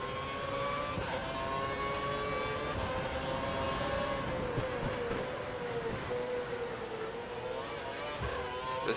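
Formula One race car engines in the F1 2012 game at the Hungary Grand Prix opening laps, a steady loud high-pitched engine whine with shifting pitch as cars accelerate together, continuous with no talk.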